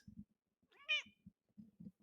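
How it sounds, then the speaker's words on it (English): A cat gives a single clear, drawn-out meow in the middle, with short soft knocks and rustles before and after it. "Yeah, I got one more meow out of her."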